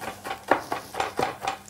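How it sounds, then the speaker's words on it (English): Knife chopping fresh oregano, sage and rosemary on a board: five or six quick, close, evenly spaced strokes with light clatter, no voices. "Okay, a little bit of chopping there."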